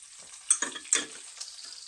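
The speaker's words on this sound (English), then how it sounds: "Excuse me while I beat my eggs." Eggs being beaten in a bowl with a utensil, giving a few quick scraping, clicking strokes, with two sharper clinks near the start, close and fairly quiet, with no talking.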